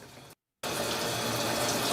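Tap water runs for a cat's bath, a steady hissing gush that stops briefly and then resumes louder and continuous, close by.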